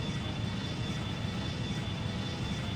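Boeing 757 engine climbing in Extreme Landings Pro, a steady dense jet roar with a thin high whine running through it, constant and loud for a few seconds with no talk.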